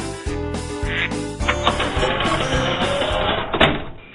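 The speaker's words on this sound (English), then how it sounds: "We'll be right back after Bob gets the ducks out of his living room." Loud duck quacks sound over a busy musical backing, with honking calls repeating through most of the stretch.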